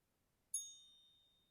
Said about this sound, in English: It's a lovely chime.